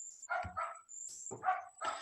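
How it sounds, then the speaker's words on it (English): Several dogs bark outside, a few sharp, fairly close barks in two quick pairs separated by a brief pause, with a faint high whine running underneath. "a lot of dogs are very angry today, I think. They're all barking."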